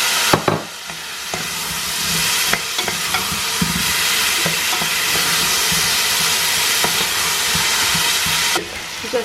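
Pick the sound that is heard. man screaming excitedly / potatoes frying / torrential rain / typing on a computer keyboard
potatoes frying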